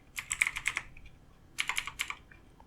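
Rapid typing on a computer keyboard in two short bursts separated by a pause, crisp clicking keystrokes heard close up with no talking.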